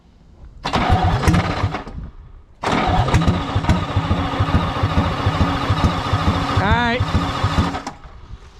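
A Detroit 6V71 diesel with a runaway fault, fitted in an LTL9000 truck, cranks in a short loud burst, pauses, then cranks again and catches into a heavy, loud running clatter with a brief squeal near the end. A voice speaks briefly.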